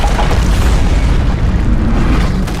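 A deep, roaring explosion of a building rumbles continuously, loud and close with heavy low-end boom, in an animated car action scene, no voices.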